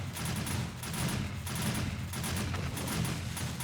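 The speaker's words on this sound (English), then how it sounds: "I'm gonna be wasting these exploding crossbow bolts like crazy" Exploding crossbow bolts fire and burst during a horde attack in the video game 7 Days to Die, a dense, continuous barrage of overlapping cracks and booms with rapid repeated clicks, steady and loud throughout.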